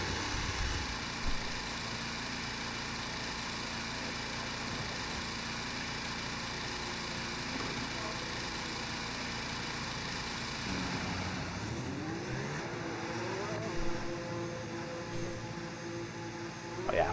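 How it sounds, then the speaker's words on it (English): F1 race car engines idling in a sim racing game before qualifying, a steady droning engine hum with a faint high whine, holding constant before shifting into rising and wavering tones near the end. "Okay, engines fired up."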